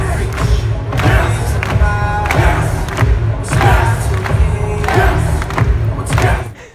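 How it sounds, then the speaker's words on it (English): A crowd of 10,000 people chants and cheers before a fire walk in loud, rhythmic surges. Stomping thuds and music pound in repeated bursts throughout. "everyone's just getting in this fired up state of just chanting yes, yes"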